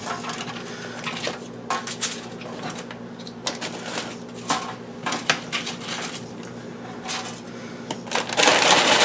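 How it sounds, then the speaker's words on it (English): Scoops being laid out in a pan for a homemade guacamole cheese crisp, a series of light, irregular clinks and taps over a steady low hum, with a louder rustling clatter at the end. "I'm laying out these scoops in the pan"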